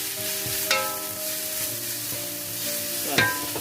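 Onions frying with a pinch of salt for sautéed vegetables with chicken gizzards, a steady close sizzle under a few clinks and scrapes of a spoon stirring the pan.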